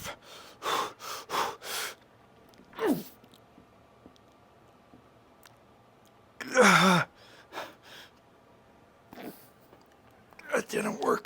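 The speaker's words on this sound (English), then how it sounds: "Deep breaths are huge, by the way." Deep, forceful breaths and gasps between efforts during a final weightlifting set for shoulders, several loud bursts separated by quieter pauses, close to the mic with no talk.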